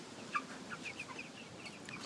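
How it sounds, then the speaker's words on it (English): Backyard chickens cluck softly and intermittently at a distance, with short chirpy calls scattered over a faint outdoor background. "Chicken them want food."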